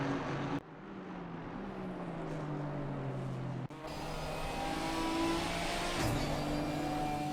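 Ginetta G55 and Aston Martin V8 Vantage racing engines at Watkins Glen in a racing video game, sustained droning engine notes with gear-change breaks and pitch shifts, fairly quiet and steady.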